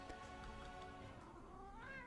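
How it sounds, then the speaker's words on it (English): A cat meows in a drawn-out, rising and falling call with harmonic wavering, fairly quiet and alone, ending on a brief upward inflection. "We have an excited cat about this"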